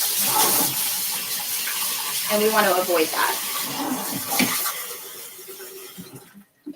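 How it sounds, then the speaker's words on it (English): Water running from a kitchen tap, a steady hiss that goes on throughout and fades near the end, with a person talking over it. "Sorry for that bit of water in your ears"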